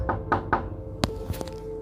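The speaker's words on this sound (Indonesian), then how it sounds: "suara ketukan di jendela kamarku yang membuat aku kaget" Knocking on a bedroom window: three evenly spaced dull knocks, then a sharper tap and a couple of fainter knocks, close by against a low steady hum.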